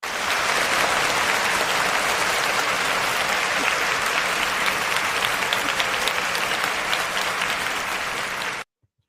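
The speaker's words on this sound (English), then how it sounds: "Let's give a round of applause to Khadijah." Loud, dense audience applause fills the room for about nine seconds, sustained and even, then cuts off abruptly.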